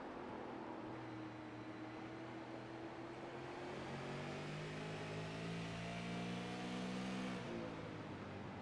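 A super late model race car engine, heard from a left-rear on-board camera during a race at New Smyrna, holds a steady loud drone with rising and falling harmonic whine as it accelerates and shifts pitch throughout.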